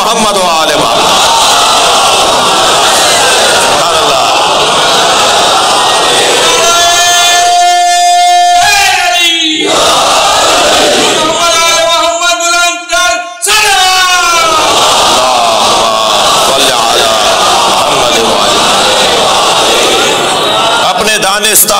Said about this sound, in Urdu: صلوات پڑھیں محمد و آل محمد